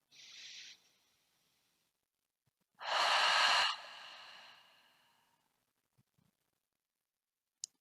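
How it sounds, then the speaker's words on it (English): Slow open-mouth exhales during a restful yoga class for insomnia: a short soft breath, then a longer, louder breathy sigh that trails off, close and alone in a quiet room. "take a few open mouth exhales"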